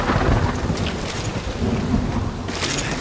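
A heavy thunderstorm rages in the video game Guardians of the Galaxy, loud rumbling thunder rolling over dense, steady rain and wind, close and enveloping without any talk.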